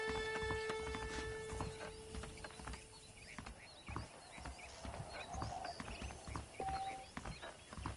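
Horse hooves clip-clop in a steady walking rhythm in the video game Red Dead Redemption, a close repeated clatter running the whole time alongside a faint snort and soft background ambience.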